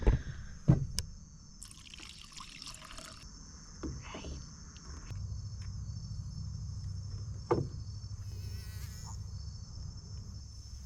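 Dense chorus of crickets and other insects fills a night in Everglades National Park, a steady shrill drone with a few nearby clicks and rustles.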